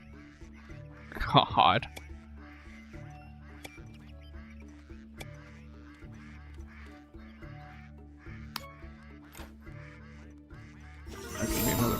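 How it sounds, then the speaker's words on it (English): Ducks quack repeatedly in a Stonehearth village-building game, a steady chorus of short calls over a soft looping music bed, with a brief burst of voice early on and a louder swell near the end. "These ducks are so fucking annoying."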